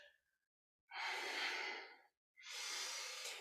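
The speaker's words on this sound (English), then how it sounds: "Exhale to center, inhale to the edge." Slow, deep breaths during qi gong practice: two long, airy exhales or inhales of about a second each, separated by a short silence, close and soft with nothing else in the background.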